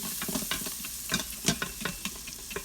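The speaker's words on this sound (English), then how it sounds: "we're gonna scrape all them little morsels down at the bottom" Browned bits of smothered turkey wings scraped off the bottom of an Instant Pot with a utensil, giving repeated uneven scrapes and soft sizzling clatter close by, with no voices.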